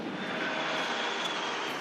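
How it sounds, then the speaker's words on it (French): Alpha Jet aircraft of the Patrouille de France fly over a Bastille Day military parade, a loud steady jet roar sustained throughout with no voices. "lorsque les 9 Alpha Jets de la patrouille de France ouvrent le défilé aérien"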